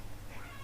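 A pet cat named Misty meows briefly indoors, a soft, fairly close call lasting under a second with steady low household noise beneath it.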